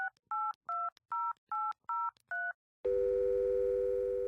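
A telephone number is dialed on a keypad: seven clean, evenly spaced tone beeps in a quick rhythm, then a short pause and a steady ringing tone that holds to the end.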